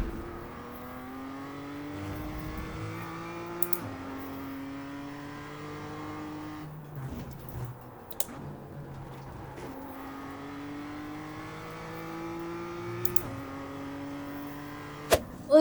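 A race car engine in the iRacing video game revs through a qualifying lap, its pitch climbing steadily through each gear then dropping at upshifts, repeated in cycles, with occasional sharp clicks and brief bumps.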